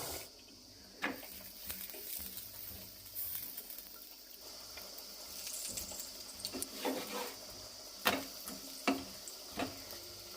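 Quiet sizzle and soft scraping of chapati cooking on a home stove, with scattered clicks and light taps of utensils over a low hiss, faint and close, no talk.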